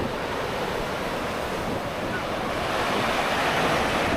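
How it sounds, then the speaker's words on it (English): Large ocean waves crash and roar on a Philippines beach in a constant loud wash of surf, with wind buffeting the microphone and the roar swelling toward the end. "The waves are massive."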